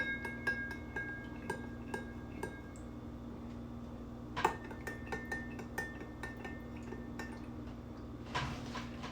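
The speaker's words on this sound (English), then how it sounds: "I'm going to take my spoon, and I'm just going to stir each one 6 times." A spoon stirs an Old Fashioned cocktail of rye, bitters and sugar in a glass, giving quiet, regular clinks and ticks against the glass, with a couple of sharper louder chinks standing out over a low steady background hum.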